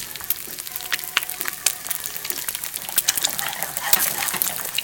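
Egg frying in oil in a hot pan, a steady bright sizzle with scattered small pops and crackles running throughout, fairly close and without talk.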